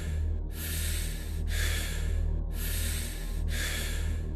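Deep, audible breaths during a breathwork meditation, four rhythmic airy cycles about a second each, close and steady over a low continuous background hum, with no talking.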